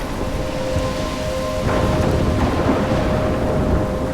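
A thunderstorm in the video game Life Is Strange, with steady heavy rain hissing throughout and a low rolling rumble of thunder swelling midway, loud and enveloping, with a faint tonal hum underneath and no talk.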